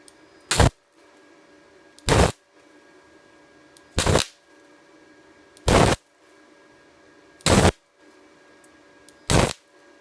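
Six short, loud bursts of flux core welding on a 1947 GMC, each a crackling sizzle lasting a fraction of a second, spaced evenly about every one and a half seconds with quiet in between.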